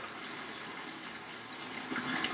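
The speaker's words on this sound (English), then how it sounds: "As you can clearly see, water is gushing out with a lot of force." Water gushes forcefully and steadily from a Kent bathroom water softener during regeneration, a dense, continuous hissing rush heard close up with no voices, growing slightly louder near the end.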